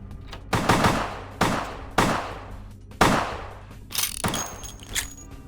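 Gunfire in Vampire: The Masquerade - Bloodlines: several sharp, loud shots spaced about a second apart, each ringing out over a low steady game hum, followed by fainter metallic clatter and a thin tone.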